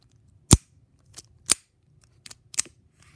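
Xcalius Beyblade parts snap tightly together in five sharp, close plastic clicks, spaced irregularly against a quiet background.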